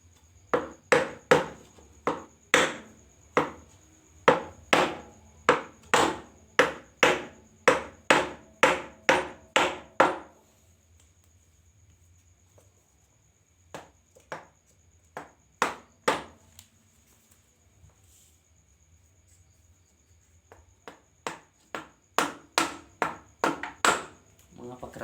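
A stiff bearing on a Viar three-wheeler engine is hammered down over a support block: sharp metallic blows in quick, steady runs of a dozen or so, pausing between bursts, close and loud with a faint background hum.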